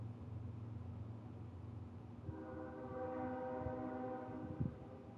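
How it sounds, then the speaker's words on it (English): A train rumbles past near a home, with a low steady roar and rail noise, then a horn sounds with long sustained tones for the second half, fairly loud and with no talking. "Don't mind the train, guys."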